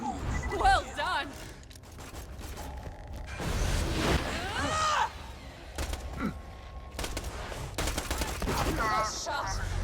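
Bursts of gunfire and weapon effects from the video game Borderlands 2 come in close, loud flurries, mixed with whooshes and in-game voices and a player's voice talking over the action.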